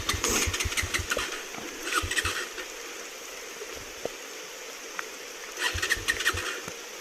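A motorcycle near a waterfall sputters as it is started, with bursts of rough engine firing at the start, around two seconds and near the end, and quieter rumbling and water noise between.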